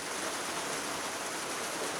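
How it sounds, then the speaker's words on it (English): Heavy rain falls in a dense, even wash of noise, constant and fairly close for a couple of seconds, with no voices. "It's raining quite hard now as well."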